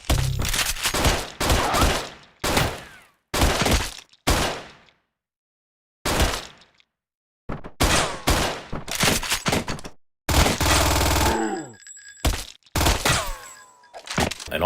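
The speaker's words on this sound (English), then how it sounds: "Gun sound effects are real punchy and sharp, same with the hit sounds" Gunfire effects from the video game Bloodlife: sharp, punchy bursts of shots in quick clusters, loud and close, separated by brief silences, with a ringing impact tail near the end.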